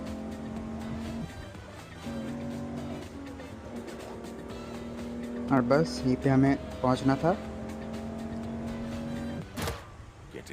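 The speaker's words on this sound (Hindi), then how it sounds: "और ये हम अपने गाड़ी को भगाते हुए पहुंच चुके हैं अपने अगले लोकेशन पर" Car engine in the video game Grand Criminal Online drones steadily, rising into a few sharp revving bursts midway, with someone talking over it throughout.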